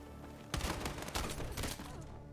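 Rapid bursts of gunfire ring out in the shooter game Battlefield 6, a dense volley of close, loud shots lasting over a second before tapering off.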